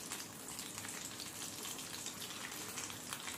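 Pieces of food frying in a pan of hot oil, giving a steady, dense sizzle that holds evenly throughout, close and fairly quiet, with no talking.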